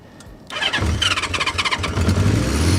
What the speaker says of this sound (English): Really nice, smooth Honda 4-cylinder engine.